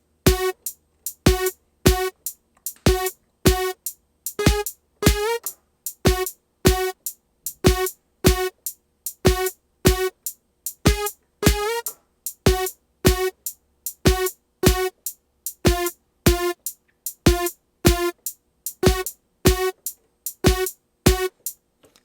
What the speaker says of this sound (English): we're gonna bend the A flat up with the pitch bend